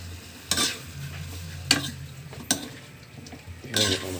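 Adobong takway, a Filipino adobo of taro runners, stirred in a frying pan: a low sizzle runs throughout while four distinct scraping clatters of the utensil against the pan land at irregular intervals, close and fairly loud, with no talking.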